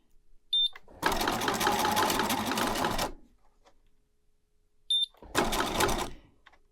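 A sewing machine stitching a pillow seam: two bursts of fast rhythmic whirring, the first about two seconds long and the second shorter, each preceded by a brief click, close and loud with quiet gaps between.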